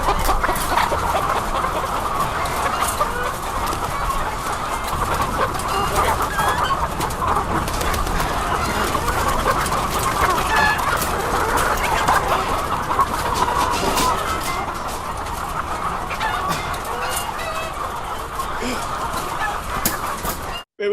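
Chickens cluck continuously in a film scene, a dense, steady clamor of many birds with constant clucking and cooing, loud and unbroken throughout, without clear talking.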